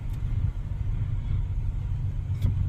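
A used car's engine revving on a test drive, heard from inside as a low steady rumble that swells slightly, with road noise underneath and no talking.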